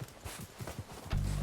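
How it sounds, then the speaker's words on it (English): Horses in Red Dead Redemption 2 approach with a quick, soft, rhythmic clop of hooves over a short stretch, followed by a steady tonal sound at the end. "They're coming down with the horses."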